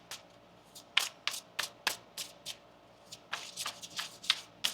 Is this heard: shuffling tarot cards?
yes